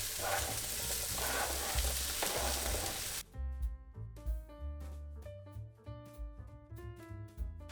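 Broccoli, peppers and mushrooms fry in a pan in a student kitchen, first a dense loud sizzle, then quieter crackle with stirring clinks and pan knocks.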